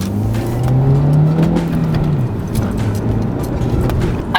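A Honda Civic Type S pulls hard in first gear, its engine note climbing steadily and loudly before a gear change drops the pitch, heard from inside the car with road noise underneath.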